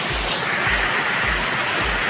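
Waterfall at the Kurudkute picnic spot in Deogarh, a loud, steady broadband roar of falling water with soft low thumps recurring at regular intervals beneath it.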